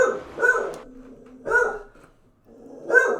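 A dog barks three times in separate, evenly spaced bursts, close and loud, with a short low whine in the quiet gaps between them.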